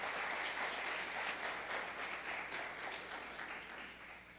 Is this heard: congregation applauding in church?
yes